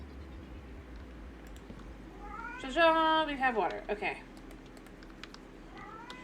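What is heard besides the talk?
cat meowing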